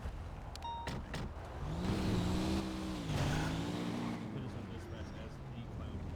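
A video game car engine revs and whines as the vehicle drives off, its pitch rising and falling steadily beneath people talking.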